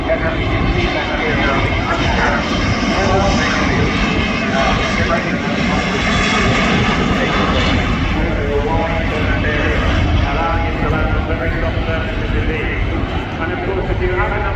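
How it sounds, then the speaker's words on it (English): Airbus H225M Caracal special forces helicopter passing at the Royal International Air Tattoo air show, a loud continuous engine and rotor roar that holds steady throughout, with voices talking over it. "RIAT is making use of that with their Airbus RC-75 Caracal Special Forces helicopters."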